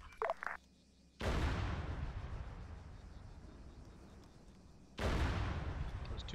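Two heavy artillery strikes in ArmA 3 boom about four seconds apart, each a sudden loud blast trailing into a long rumbling decay, with faint radio-style voices before the first.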